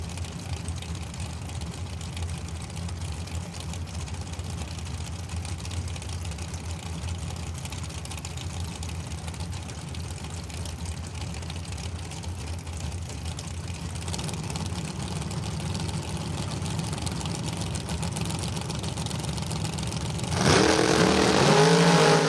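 Drag racing cars idle at the start line of a Sunday main event, a low steady engine rumble that grows louder, ending in a sharp burst of revving.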